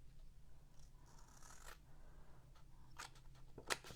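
Scissors snip through paper while crafting a gift box, a few quiet, crisp cuts and rustles scattered over a faint background hum, ending with a sharper snip.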